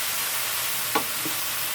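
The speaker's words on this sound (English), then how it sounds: "put in the onions and the garlic and all of that, so that will saute down with it" Onions and garlic sautéing in a pan with the rest of the vegetables, a steady faint sizzle broken by a couple of brief stirring scrapes near the middle.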